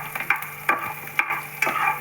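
Onion sautéing in a pan on a home stove, a soft sizzle broken by rhythmic scraping stirs about every half second, close and clear with no talking.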